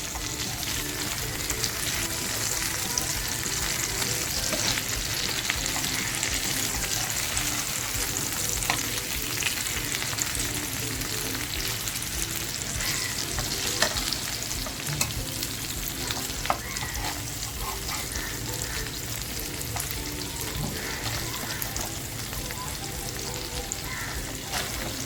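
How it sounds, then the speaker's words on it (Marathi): Small fish sizzle steadily in hot oil in a pan, a dense continuous crackle with occasional clicks and scrapes as the pieces are turned one by one. "आपण ही मच्छी आहे ना एक एक पलटी मारून घेऊया"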